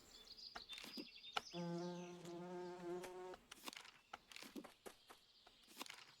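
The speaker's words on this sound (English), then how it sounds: "European honeybee" A European honeybee buzzes in a video game, a steady tonal drone lasting about a second and a half, set among clicks and light game sounds.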